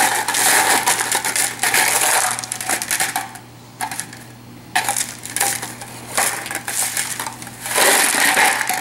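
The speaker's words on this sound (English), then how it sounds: "we're just going to roll it in the M&Ms" Hard candy-coated M&M chocolates clatter and rattle against a pan as a dessert ball is rolled through them, a busy, close scraping crunch in bursts with brief quieter pauses.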